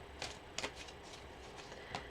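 Tarot cards are shuffled by hand in a quiet room, a series of quick papery riffles and soft slaps coming in several uneven bursts close to the microphone.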